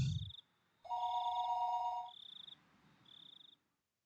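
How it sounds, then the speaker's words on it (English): An electronic telephone rings in the Higurashi visual novel game, repeating two-tone trills in short bursts separated by brief pauses, clear against a quiet background. "the phone began to ring again"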